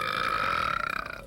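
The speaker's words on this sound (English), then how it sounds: "Old-fashioned Pepsi burp." A long, loud close-up burp after drinking Pepsi, rumbling with a pulsing rattle toward the end, heard alone without speech.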